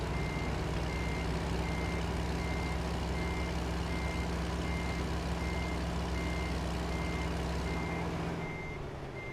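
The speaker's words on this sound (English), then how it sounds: "you're going to have to get used to reversing with the trailer" A truck with a trailer reverses in a driving simulator, its backup alarm beeping in a steady, evenly spaced rhythm over a low engine drone before the sound drops away near the end.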